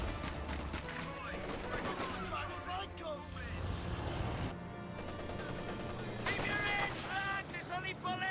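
Sustained MG34 machine gun fire in Company of Heroes 2 pins down an enemy Vickers gun, with steady bursts layered over a dense battlefield din of other weapons and explosions and no pause in the noise.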